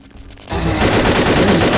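Rapid automatic gunfire erupts in the game Vampire: The Masquerade - Bloodlines after a quiet half second, a loud, dense rattling burst that continues to the end with no speech.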